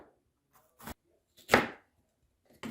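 A knife chops a jalapeno on a cutting board while soup is being made: a few separate, sharp thuds close up, one stronger cut in the middle, with quiet gaps between them.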